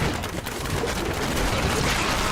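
Explosions in the video game Diablo 3 form a dense, continuous crackling burst of blasts, like rapid gunfire, loud and sustained with no pauses.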